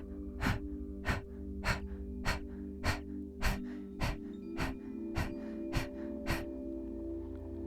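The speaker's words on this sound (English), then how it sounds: "The effort is quick exhales." Quick, forceful breaths pushed out through the mouth during a neck exercise, about a dozen sharp puffs in a steady rhythm, close and fairly loud over a low background hum, with no talking.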